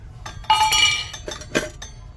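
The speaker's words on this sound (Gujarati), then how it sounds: "આપણે ટિફિનનું ઉદ્ઘાટન કરી નાખીએ" Metal tiffin lunch box being opened, a few sharp ringing clinks and clatters of steel containers close by, separated by short quiet gaps.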